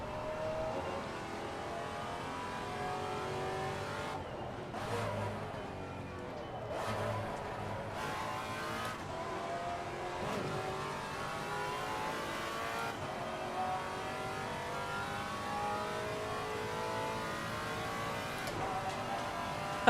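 GT4 race car in Assetto Corsa Competizione driven on track, engine droning and revving through gear changes with braking and tyre scrub as the rear end slides, steady and close over about twenty seconds.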